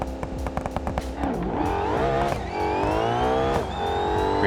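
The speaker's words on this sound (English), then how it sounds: "Pretty good launch." A 900 horsepower drag car launching off the line: loud choppy idle pops, then a rising, screaming engine that climbs through the revs in upshifting sweeps, close and alone.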